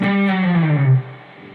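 A distorted electric guitar note on the low E string slides steadily downward in pitch to around the 9th fret, then settles and rings out on a lower note.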